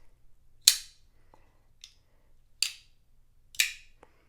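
A Spyderco Swish Bowie folding knife is flicked open and snapped shut several times, each time giving a crisp, sharp metallic click, close and loud, with no voices and quiet gaps between the clicks.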